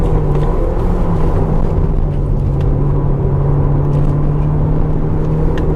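Kia Sportage AWD GT Line engine pulling steadily under acceleration, a continuous droning hum with road rumble, heard from inside the cabin without talk.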